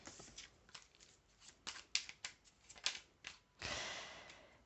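Oracle cards are shuffled by hand: quiet papery riffles and slaps in uneven bursts, ending with a longer rustling sweep, close and soft with no voices.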